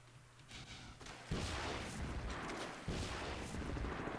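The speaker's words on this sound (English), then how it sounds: "These rockets might stop you, so you gotta be careful about that" Rockets exploding in Half-Life 2, heavy booming blasts arriving in a few big bursts over a rumbling, noisy game background, with no speech.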